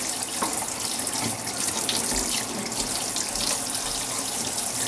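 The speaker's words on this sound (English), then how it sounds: "I'm at my sink now, and I have a large pot with dish soap in here and a strainer" Tap water runs steadily into a kitchen sink holding a large pot with dish soap and a strainer, used to rinse off bacon fat. A continuous close splashing hiss with small clinks, and no talking.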